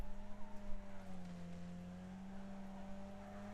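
Car tires squeal in the racing game Wreckfest, a sustained high whine sliding slightly in pitch over a low engine drone, with a rumbling burst at the start that then settles into a steady tone.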